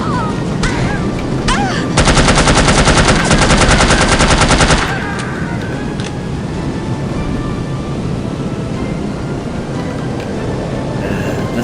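Rapid automatic gunfire rattles in a sustained loud burst during a shootout in the video game No One Lives Forever, framed by scattered single shots and engine-like background noise.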